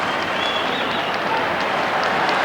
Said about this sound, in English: There's a big, huge cheer.